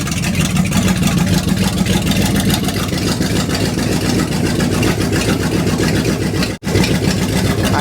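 Chevrolet El Camino engine running on its first start in 40 years, a steady loud idle with rapid regular firing pulses, interrupted by one brief dropout near the end before resuming.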